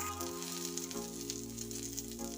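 Roasted chana dal and curry leaves fry in a pan for a coconut chutney, making a soft, even sizzle that holds steady throughout, fairly quiet and close, with no voices.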